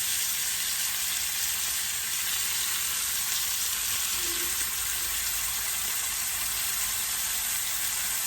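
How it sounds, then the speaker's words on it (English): A balsamic pot roast browning in a hot pan, with a loud, even, continuous sizzle and crackling fry held close for the whole stretch and no talk. "Gonna let it cook for another 2 minutes and 20 seconds on the back side to brown it"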